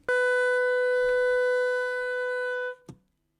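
A single sustained saxophone G sharp, played with the octave key, held steadily for nearly three seconds, clear and close, ending with a soft key click.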